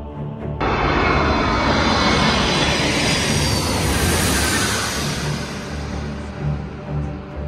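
A Cessna plane in flight, its engine giving a steady, loud broadband drone that holds for several seconds with a slight swell and dip toward the end, close and continuous with no voices.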